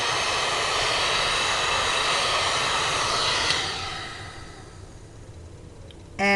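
A handheld heat gun blows hot air in a steady loud roaring whoosh while crafting an inchie, then powers down and fades, ending with a brief burst as it switches back on.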